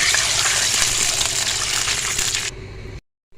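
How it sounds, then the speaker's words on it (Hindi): Water is poured steadily into a cooking pot of fried ginger for an achari daal tarka, making a loud continuous gush. It ends abruptly, and a brief quiet tail follows. "अब हम इसमें डाल देंगे पानी।"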